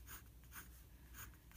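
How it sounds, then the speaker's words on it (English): Jinhao 80 fountain pen with an extra-fine nib scratching across paper in three close, crisp bursts of scritching strokes, with short quiet gaps between them and no one talking. "You can hear it scratchy, but it doesn't feel scratchy on the paper at all."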